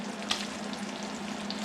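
Venison and bell peppers frying in a pan, a steady close sizzle with a constant crackling hiss throughout and no talking.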